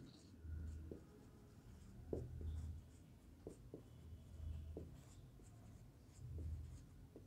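A pen scratches across paper during a maths lesson on a statistics problem, with short, quiet, rhythmic strokes repeating up close under a faint voice.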